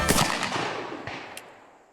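Old muzzleloading guns, including an 1841 Richards flintlock, firing at a shooting match: a burst of several loud close reports followed by a couple of sharper distant shots, each echo trailing off.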